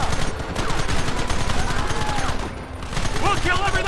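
Gunfire crackles in the Western video game Red Dead Redemption, a dense volley of overlapping rifle and pistol shots going off continuously and loudly, with shouting voices mixed in.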